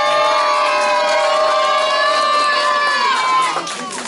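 A loud crowd cheers, whoops and shouts at a live New Year concert, filling the space with dense, sustained noise that swells steadily and then eases slightly toward the end.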